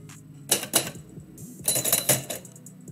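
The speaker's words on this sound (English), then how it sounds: "Typewriter's just being weird." A manual typewriter during live typewriter poetry, heard up close as two bursts of sharp strikes and clacks, each with a metallic carriage rattle, separated by a brief pause.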